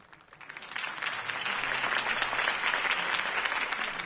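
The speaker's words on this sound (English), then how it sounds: "If only Mr. Wayne, my campaign's largest backer, could have heard that applause" Video game crowd applause swells in and holds steady, a dense wash of clapping from many hands without any voices over it.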